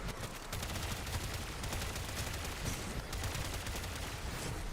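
Rapid automatic gunfire from a Latron Incarnate weapon in Warframe keeps up a dense, continuous rattle of shots, faint and steady from start to finish, with no voices.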